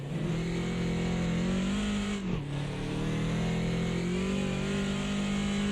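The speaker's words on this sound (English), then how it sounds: "Look at that turbo kick in here on this BMW." Turbocharged BMW Group 5 race car in a sim race on the historic Nordschleife, its engine droning loud and steady at high revs, dipping briefly for a gear change before pulling hard again, with no voices.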